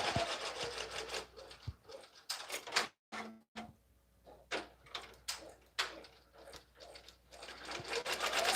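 A sewing machine named Willow stitches a minky baby blanket, giving uneven bursts of mechanical whirring and rubbing with brief pauses and a short thump midway. No one speaks.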